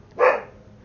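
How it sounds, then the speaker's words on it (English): A single short dog bark within a No Man's Sky game, one sharp burst fading quickly, close and moderately loud with no speech. "the dog is barking"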